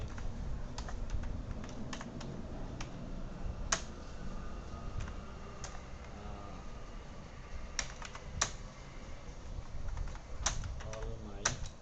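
Scattered clicks of typing on a computer keyboard, uneven and sparse against a steady low background hum, close but soft.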